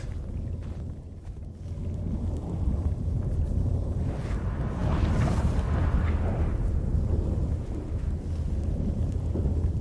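A thunderstorm rolls in The Witcher 3, heard as a steady, deep rumbling roar with wind-like rushing that swells in the middle and stays dense throughout, with no voices.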